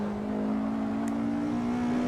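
Open-wheel race car in a racing video game accelerating hard out of a corner at the Nurburgring GP circuit, a steady loud engine whine holding a constant pitch throughout.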